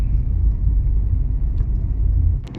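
A car cruising along National Highway 27 near Kishanganj, a steady low road rumble and engine drone running throughout with no talk, fairly close and even in level.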